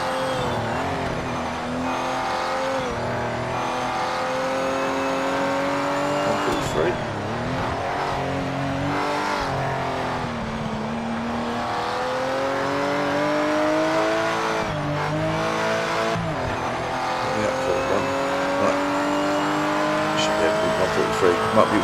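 Race car engine in the Project Motor Racing game on a practice lap, a loud, steady high-revving drone with repeated pitch swoops at the gear changes and braking points, with a voice talking over it.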